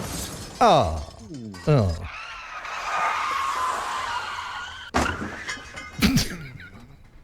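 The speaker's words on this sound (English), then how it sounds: "Surely you've got a crash sound effect somewhere." A car crash sound effect plays, with squealing tire skids followed by a crunching, shattering impact and rattling debris. Voices react briefly around it.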